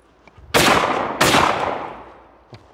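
Two loud, close shots from a Beretta Ultraleggero double-trigger over-and-under shotgun, fired about 0.7 seconds apart, each with a sharp crack and a long echoing decay, without talking.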